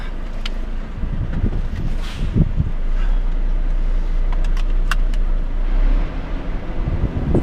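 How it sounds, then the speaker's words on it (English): Steady wind noise buffeting a UK lorry cab while driving, a broad continuous rushing roar with low engine rumble and a few faint clicks, no talk. "Wind noise."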